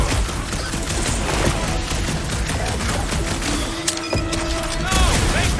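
Rapid gunfire crackles in Marvel's Guardians of the Galaxy, a dense, continuous barrage of bursts under character voices, with occasional sharper mechanical whirs and zaps cutting through.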